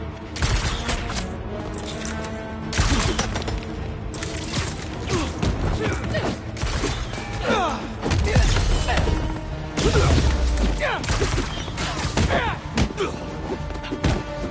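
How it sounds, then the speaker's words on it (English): Enemy gunfire in the video game Marvel's Spider-Man 2, with dense rattling bursts, thuds and crashes running continuously and loudly through a busy game mix. "Opening fire!"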